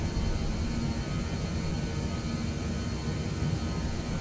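In Microsoft Flight Simulator 2020, an airliner climbs out after takeoff from Emmen, Switzerland, giving a steady broadband engine roar with a low rumble that is continuous and even, with no voices.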